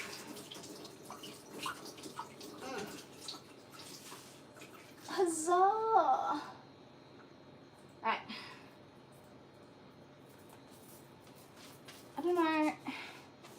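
Hot water running from a house tap while cooking a roast, a soft continuous stream under intermittent talk, with brief louder splashing bursts and a voice now and then.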